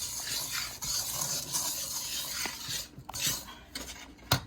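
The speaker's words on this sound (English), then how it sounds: "I just make the butter and the sugar melt in" Butter and sugar are stirred as they melt together in a pan for German chocolate frosting, a continuous close scraping and sizzle with a few clinks of the utensil near the end.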